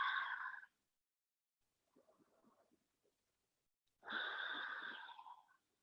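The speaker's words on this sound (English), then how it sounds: "Breathing." Deep breathing during a power vinyasa yoga session, two long audible breaths with a softer, quieter breath between them, close and clear in an otherwise silent room.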